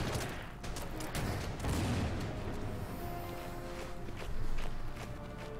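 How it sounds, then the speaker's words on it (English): Massed artillery fire in the strategy game Order of Battle, during a Paris 1944 battle: a dense, continuous rumbling barrage with overlapping booms and swells of loudness, steady throughout with no speech. "All artillery is going to fire now."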